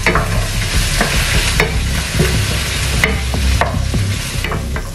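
Bacon, ham and vegetables fry in a hot pan with a loud continuous sizzle, broken by repeated sharp scraping clacks of a spatula stirring, close up and with no voices.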